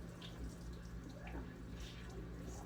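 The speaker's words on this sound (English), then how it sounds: "I'm letting excess water drip off of my elbow." Water running and dripping at a sink after hands are rinsed under a tap, a soft, continuous watery wash at low level with faint drips, no voices.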